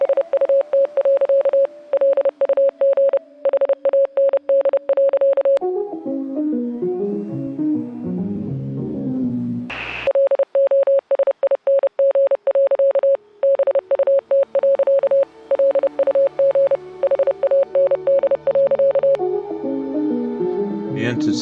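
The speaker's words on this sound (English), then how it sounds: "There's that Morse again." Steady radio Morse code in Oxenfree II: clipped, high beeps tapped out in long runs, broken midway by a short stretch of plinking melodic notes, then more keyed tones over faint static.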